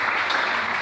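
A church congregation applauding the Lord, a dense, steady wash of clapping from many hands, loud and sustained for the whole moment with no voices standing out.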